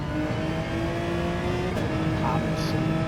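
Race car from Gran Turismo 7 at full throttle on a track, engine note holding high and steady under a continuous drone, with a brief tire chirp near the end, while a voice talks over it.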